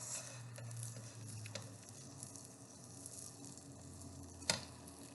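An egg fries in butter and oil in a pan, giving a steady, close sizzle with soft crackles and one sharp pop near the end.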